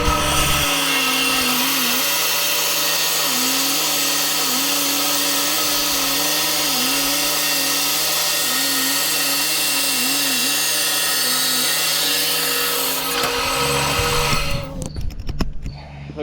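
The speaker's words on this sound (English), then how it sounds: "So to make things easier, we're going to start off in the saw and go from there." A power saw cuts metal floor pan pieces with a loud, sustained whine and grinding drone that runs steadily for about thirteen seconds before winding down into clattering handling noise.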